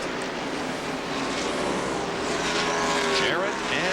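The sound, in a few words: NASCAR stock cars racing at Darlington Raceway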